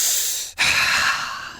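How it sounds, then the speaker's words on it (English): A person takes a deep breath: a long, airy breath close to the mic, a brief pause, then another full, breathy exhale trailing off, with no speech. "Deep breathing."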